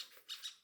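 Two quick, harsh squawks from a bird at night, close and moderately loud, about a fifth of a second apart.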